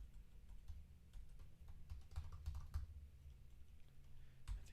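Quiet, irregular keystrokes on a sticky computer keyboard, scattered clicks and short bursts of typing over a low background hum, faint and close, with no talk.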